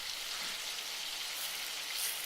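Shiitake mushrooms searing in hot olive oil in a pan, a soft, steady hiss and crackle that stays fairly quiet and even, with no talking.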